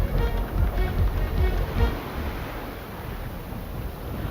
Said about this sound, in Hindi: तो उफनती लहरें, बरसता आसमान और साथ ही साथ लोग परेशान।